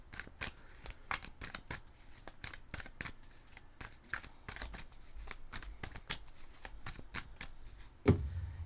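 Tarot cards being shuffled and cut, a steady run of crisp riffling flicks and slaps close up, with a louder thud near the end as the deck is cut.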